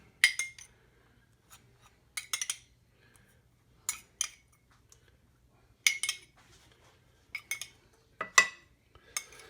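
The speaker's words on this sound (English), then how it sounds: "take our enchilada sauce, spoon it on each one just to start out with" Sauce is spooned onto chicken and rice enchiladas in a casserole dish, giving a series of short clinks and scrapes of a spoon against the dish, close and fairly quiet, in separate bursts with quiet gaps between.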